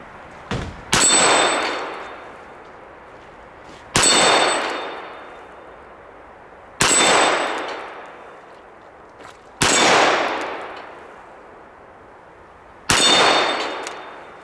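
A Smith & Wesson Model 15 revolver fires five well-spaced shots, each a sharp crack followed at once by the bright ringing clang of a steel dueling tree plate, the ring decaying over a couple of seconds.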